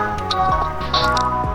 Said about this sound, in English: a lemon juice. A nice squeeze